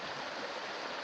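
A river flows steadily beside a hiking trail in the Peak District, a continuous broadband rushing of moving water that stays even and close throughout, with no voices.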